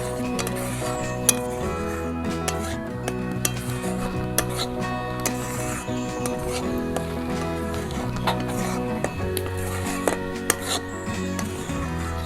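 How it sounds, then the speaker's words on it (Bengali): Semolina being stirred in a pan over low heat while making gulab jamun, a steady scraping and soft sizzle with occasional clinks of the spoon against the metal, continuous and close. "সুজি দেওয়া হয়ে গেল, এখন আমি নেড়ে যাবো খালি"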